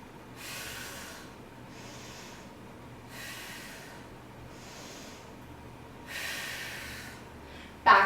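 Deep, slow breathing during a runner's stretch in a ballet yoga fusion workout, with three audible inhale-exhale hisses spaced a couple of seconds apart, close and fairly soft, ending on a brief sharp noise.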